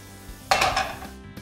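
Onions given a gentle toss in a hot pan, a short burst of sizzle and metallic pan clatter lasting about half a second, close, followed by a faint clink.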